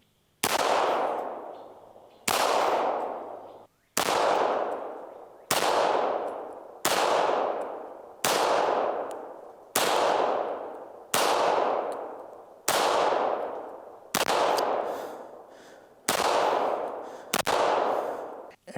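Rapid, evenly spaced shots from a Beretta M9A3 9mm pistol fired at targets, about a dozen loud, sharp reports roughly every 1.5 seconds, each with a short ringing decay, no talking.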